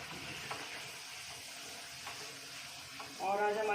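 Puri frying in hot oil in a home kitchen, a steady soft sizzle with faint clinks, then a louder bubbling burst near the end as fresh dough hits the oil.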